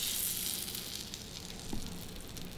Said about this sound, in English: I got the butter browning a little bit